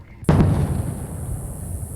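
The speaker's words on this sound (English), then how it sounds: "That's the sound of a sonic boom created by a plane breaking the sound barrier." After a brief hush, a sonic boom from a plane breaking the sound barrier hits with a sharp, loud crack, then rolls into a long, deep rumbling decay.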